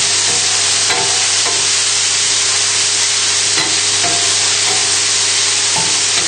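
Garlic and mushrooms fry in a pan with a loud, continuous sizzle and hiss, while a utensil clinks and scrapes now and then as the food is stirred, up close with no talking.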